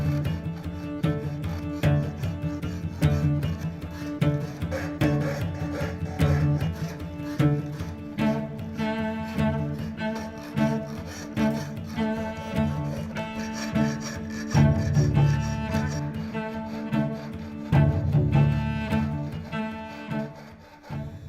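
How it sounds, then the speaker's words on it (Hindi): Sandpaper is rubbed over a wooden surface to smooth it, making repeated rhythmic abrasive strokes that are close and fairly loud, set over a steady tonal background. "सतह को सैंड पेपर की मदद से भी चिकना किया जाता है।"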